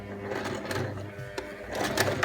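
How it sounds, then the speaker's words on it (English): Sewing machine stitching a 1/4 inch seam along matched raw edges of fabric for a storage tote, a continuous mechanical whirring hum with small clicks, close and steady throughout. "So we'll just sew the seam, kind of matching up the raw edges, my 1/4 inch seam allowance there."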